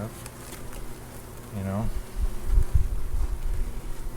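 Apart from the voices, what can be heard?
honeybees buzzing during hive inspection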